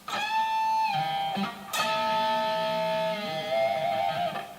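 An electric guitar plays a blues double-stop bend on the G and B strings, two notes pushed up together a whole step and held, ringing alone, with a brief pick attack before a second sustained bend.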